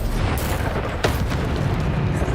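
A booming blast from the Bombarda spell in Hogwarts Legacy, a dense rumbling explosion with a sharp crack around its middle, loud and close.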